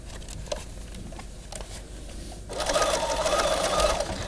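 A sewing machine stitches a laminated plastic lunch bag, with quiet handling at first and then a rapid, steady whirring run of stitches that grows louder and busier in the second half.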